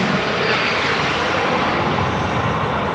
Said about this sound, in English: I was trying to show y'all this plane took off